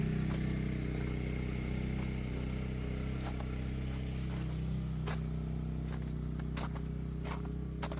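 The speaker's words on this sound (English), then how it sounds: "got the generator going" A generator runs in a snowy setting beside a cargo trailer, its engine a constant low drone filling the background, overlaid by scattered faint clicks and taps.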